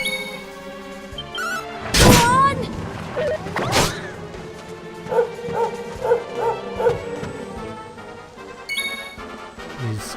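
A dog enemy barking in the Dragon Quest XI game: two sharp loud barks early on, then a run of four or five quicker yips amid game music and effects.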